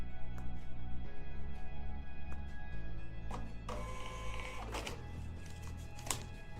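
A thermal receipt printer loaded with a new paper roll whirs and buzzes in short mechanical bursts over a steady low hum, with clicks and a rising feed noise partway through, fairly close and without talk.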